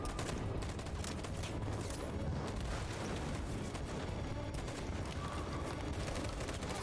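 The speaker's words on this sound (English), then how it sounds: "covering fire" Sustained covering gunfire in the video game Detroit Become Human, a dense, continuous barrage of rapid shots and rumbling blasts running loud and unbroken throughout.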